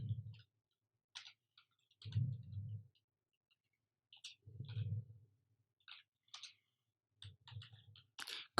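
Keys on a computer keyboard are tapped in short, scattered bursts of crisp clicks while someone types a name. Soft low thumps come between the bursts in an otherwise quiet room.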